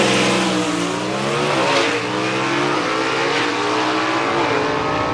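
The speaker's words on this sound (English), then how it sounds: "Tim Hall just chops the tree down, does a great job getting that car down the racetrack" Drag racing gasser car at Southeast Gassers in Aiken, North Carolina, launching and accelerating hard down the dragstrip, a loud, sustained engine roar with rising harmonics that stays close throughout.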